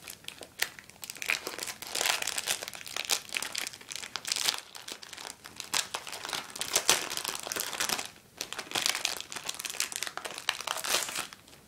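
Plastic wrapping on a Pokémon card binder crinkles and crackles in dense bursts for several seconds, close and fairly loud, with brief pauses between handfuls of rustling and no talking.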